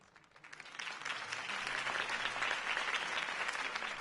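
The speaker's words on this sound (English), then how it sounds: "could have heard that applause" Crowd applause from a video game, following a campaign speech urging voters to save the city; dense, steady clapping swells in within the first half second and holds at full strength throughout, with no talk over it.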